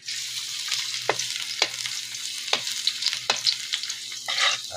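Garlic and ginger browning in a pan for native adobong manok sa gata, a steady close hiss of frying broken by repeated scraping strokes of a spatula.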